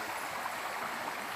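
A river runs beside a hiking trail on the Bruce Trail, a steady, close, unbroken rush of flowing water with no voices.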